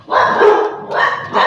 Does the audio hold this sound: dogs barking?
yes